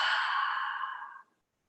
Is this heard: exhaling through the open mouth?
yes